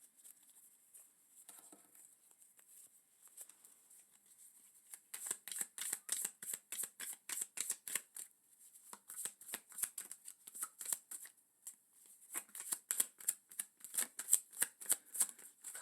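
Tarot cards are shuffled close to the microphone in quick riffling bursts: a faint start, then several rapid rhythmic runs of crisp flapping papery taps, alone and with no voices.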